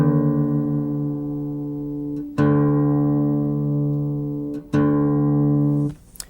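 Low E string on an acoustic guitar being retuned down to D, a sustained plucked note ringing out and repicked twice, its pitch settling lower, alone and clear.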